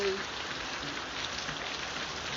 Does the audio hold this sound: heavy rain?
yes